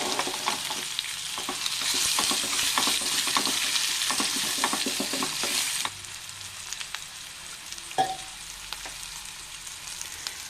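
Raw banana pieces sauté in oil in a pan with a loud, steady sizzle and bursts of stirring, dropping to a quieter crackle partway through, with no talk.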